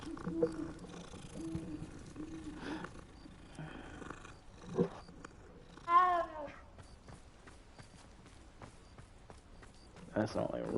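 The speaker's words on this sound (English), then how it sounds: "That sounded like a real cat for a second." Cat in the Hogwarts Legacy video game lets out a short, bright meow in the middle of the clip, with someone talking intermittently around it and game ambience underneath.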